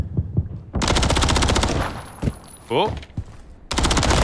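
Rapid automatic gunfire crackles in bursts during a Call of Duty match between OpTic Texas and New York Subliners in a Control mode CDL 2024 qualifier, loud and close, with a brief exclamation amid the shots.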